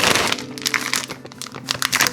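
A plastic piping bag fitted with an 845 tip is handled up close, giving quiet crinkling and rustling with small crackles, alone without talk.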